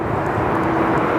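A QLink turboprop on short final for runway 34 right at Sydney Airport, heard as a steady broadband engine roar in the evening air, continuous and moderately loud.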